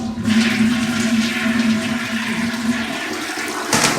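A toilet flushes in a rental unit during a move-in inspection: a loud, steady rush of water that carries for about three and a half seconds before a brief burst of refill at the end, with no talking.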